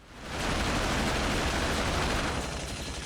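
Dense, continuous burst of gunfire in the Beverly Hills Cop video game, a loud unbroken roar of rapid shots that swells in and holds steady for a few seconds with no talk.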